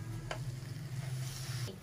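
Boneless mutton, half a kilo, being stirred and mixed with ground ginger, garlic and spices in a pot, giving a steady close sizzling, scraping sound with a couple of brief louder scrapes.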